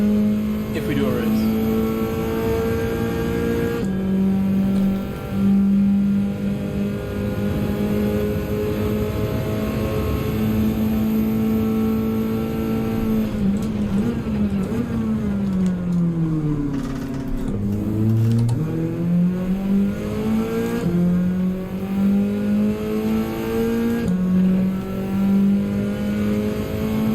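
Race car in Gran Turismo 7 during practice laps, engine droning steadily through gear changes, with revs dipping and climbing again under a constant loud roar while a voice talks over it.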